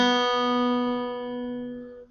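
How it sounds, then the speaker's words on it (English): Open B string plucked on a guitar, one clear sustained note with bright overtones that rings steadily for about two seconds before being cut off, close and alone. "Open B is on the second string."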